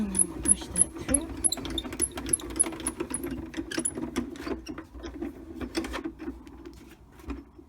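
A Spellbinders die-cutting machine pushes a bracket-border die through with a steady grinding, clattering mechanical drone. Rapid ticks and rattles run over it for several seconds and fade toward the end.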